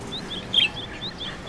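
A parrot gives short high chirping calls, faint and repeated, over a quiet indoor background.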